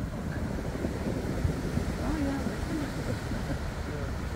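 Surf washing pebbles and rocks back and forth on a black-sand beach in Tahiti, a steady rushing churn with gusting wind noise across the microphone and faint voices in the background.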